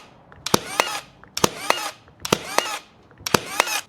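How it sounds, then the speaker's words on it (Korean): A cordless battery nail tacker fires nails in continuous firing mode, giving sharp snapping shots in quick pairs, with four bursts separated by short whirring recovery sounds and a workshop setting. "연속 발사 모드는 트리거를 그냥 꽉 잡은 상태로 타카 앞부분만 모재에 톡톡 갖다 대면 쏙쏙 순식간에"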